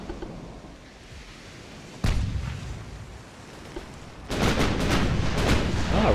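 Naval guns firing in the Ultimate Admiral: Dreadnoughts warship game, two heavy booming salvos with a sharp one near two seconds and a longer rolling burst of fire from about four seconds on, over low rumbling background.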